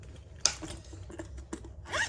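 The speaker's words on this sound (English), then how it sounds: "It has a top recess zipper." A handbag's top recess zipper is pulled in a few quick, scratchy runs, close and distinct, with short pauses between the tugs and no talking.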